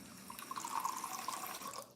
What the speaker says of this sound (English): I'll just add a bit of tap water to it.